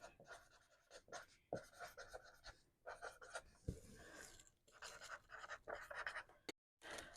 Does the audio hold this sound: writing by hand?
yes